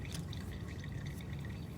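Water poured over a dissolving antacid tablet, a short steady trickle with faint splashing and fizzing, close and continuous.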